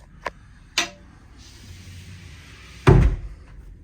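A cabin door aboard a Hylas 57 yacht is handled with a couple of light clicks and knocks, then closes with a firm, close thud near the end, set against a quiet interior hush.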